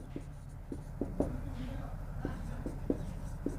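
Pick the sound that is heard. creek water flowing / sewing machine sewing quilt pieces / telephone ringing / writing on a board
writing on a board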